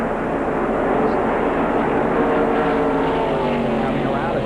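Sportsman stock cars roar around the Charlotte track in 1993, a loud, continuous blended engine drone filling the whole stretch, with announcer talk underneath.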